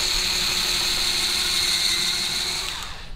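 A Ruby Horsepower gadget's motor runs steadily at close range with a constant high-pitched whine and a low hum, then trails off at the end, with no voices.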